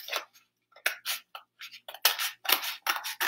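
A bigger marshmallow is cut straight up the middle, giving a series of short, close snipping and squishing sounds in quick irregular bursts with brief pauses between them, and no talking.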